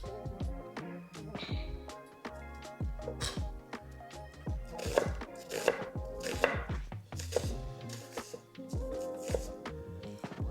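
A knife slices ingredients, including onions, for a Philly cheesesteak on a cutting board, with rapid, even, rhythmic chops close by and no talking.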